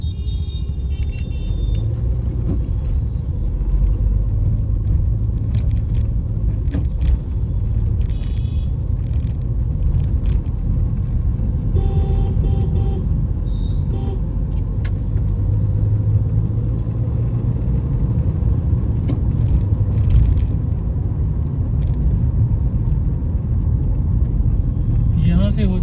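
Heavy road traffic in Delhi: a loud, constant rumble of car and motor engines close by, with passing vehicles and brief horn-like tones, and someone talking over it throughout.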